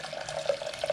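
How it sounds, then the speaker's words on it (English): Water being poured into a pot, a steady close splashing and gurgling stream for a brief moment with no voices. "And I'm going to pour the water in."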